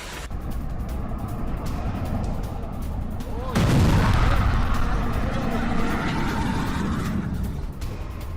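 Bombardment during an Iranian missile attack on Israel: a heavy, rumbling explosion bursts in mid-clip and rolls on loudly for several seconds over a constant noisy background, with no voices heard.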